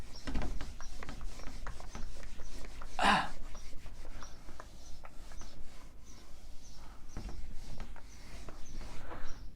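Rubbing strokes wipe writing off a classroom board, a soft, steady scratchy friction that runs close and fairly quiet for several seconds with a few louder swipes and no talking.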